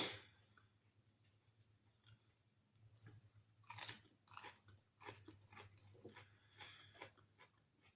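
Crunchy food being chewed up close in a quiet setting, with irregular crisp bites and wet munching bursts that grow denser in the second half over a low steady hum.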